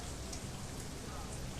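Steady rain hiss in the video game Shadowrun: Hong Kong, a soft continuous patter held at low level with no pauses.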